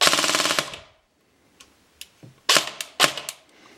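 Lonex M4 SPR airsoft AEG with an electric gearbox firing a short full-auto burst, a rapid close rattle of shots that stops abruptly, then a few scattered clicks and single pops.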